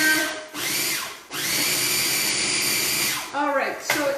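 Walnuts and other ingredients whir in a food processor or blender in three loud bursts of motorized grinding, separated by short pauses, with a brief voice near the end.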